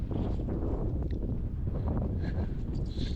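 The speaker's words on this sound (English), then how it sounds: "Still a little breezy." Steady wind buffets the microphone at a canyon rim in Arizona, a continuous low rumbling roar with slight gusty swells and no speech.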